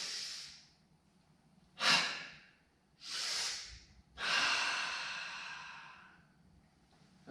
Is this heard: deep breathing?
yes